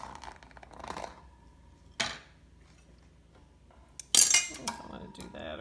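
A knife cuts a slice of gluten-free torta caprese on a plate, giving a few sharp clinks and scrapes of metal on china separated by quiet pauses, with faint soft handling noise.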